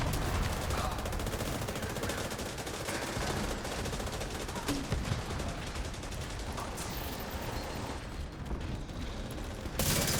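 Video game gunfire rattles in rapid, continuous bursts, fairly quiet in the mix with faint voices underneath.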